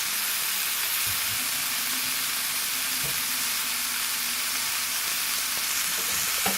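Steak sizzles steadily in a Gotham Steel nonstick pan, a dense, even frying hiss with a few soft clicks and knocks, close and continuous throughout with no talk.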